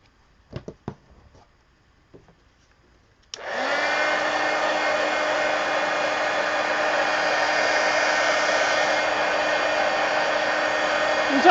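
After a few faint taps and rustles, a hair dryer switches on and roars steadily at close range, drying paint on a mixed media painting, with a constant motor whine for the rest of the clip.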